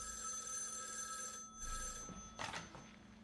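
A telephone rings in an empty house in a film scene, a faint, steady electronic ring with a couple of soft thumps near the end.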